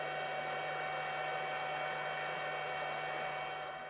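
A hair dryer blows steadily to dry freshly painted nail polish, a loud, even whoosh with a constant whine running through it from start to finish, close and uninterrupted.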